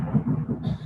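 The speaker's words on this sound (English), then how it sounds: "thunder, beautiful. That was really well timed." Low, rolling thunder rumbles steadily through the brief moment, a deep continuous roar swelling in waves with no voices over it.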